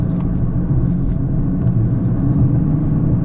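Steady engine and exhaust rumble from a 2021 Dodge Charger GT driven while shifting with the paddles, a loud, continuous low drone heard from inside the car, with no voices.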